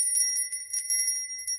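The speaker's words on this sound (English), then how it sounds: "Let's ring the bell of hope." A small bell rung over a spell jar gives a run of bright, tinkling strikes with sustained high ringing tones, quick and repeated, clear and alone.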